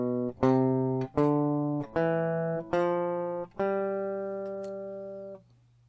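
Musical scale with an unsharpened seventh note, played as a rising series of sustained tones, six distinct notes each struck cleanly and ringing, the last one held longest before fading, no voices.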